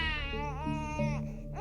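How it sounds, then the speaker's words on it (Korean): A baby cries in wavering, rising and falling wails, then breaks into short sobs. The crying is loud and close, set as an eerie effect in a spoken Korean horror story about a drowned haenyeo diver, with no talk over it. "애기 우는 소리가 들렸다는 이야기가 계속 들렸습니다"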